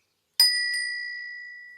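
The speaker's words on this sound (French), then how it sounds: "faites sonner votre cloche" A single strike of a small ritual bell, bright and close, ringing out with a clear sustained tone that slowly fades.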